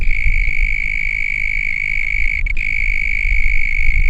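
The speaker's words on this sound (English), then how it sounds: "This call is specifically from a male in genus Gryllotalpa. It's like a trill." Male mole cricket of genus Gryllotalpa giving its mating call, a continuous pure high-pitched trill that is steady and loud, with a brief dropout midway, over low background rumble.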